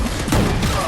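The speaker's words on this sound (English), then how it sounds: "a powerful shot by holding down the trigger that can tear through" A heavy, booming charged gunshot from the Gungrave G.O.R.E. video game, a dense loud blast with a thudding impact swelling midway through a short, crowded burst of action noise.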